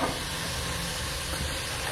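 A lit stove with about two teaspoons of oil heating in a pan gives a steady, even hiss, close and unbroken throughout, with no voices.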